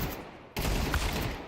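A sharp burst of gunfire in Counter-Strike during an esports match, a sudden loud crack that cuts in after a quieter moment and rings on briefly, heard without speech over it.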